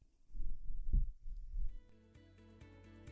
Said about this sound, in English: Enjoy every heartbeat.